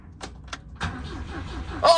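An Amazon project car's starter cranks its engine over. A couple of short clicks come first, then a brief rhythmic cranking whir that ends in a louder burst. The sound is fairly faint and close.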